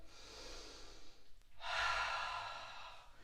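Soft, close breathing during a Pilates class: a quiet inhale followed after a short pause by a longer, louder airy exhale.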